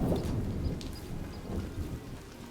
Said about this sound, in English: No, it's just a big bad thunderstorm.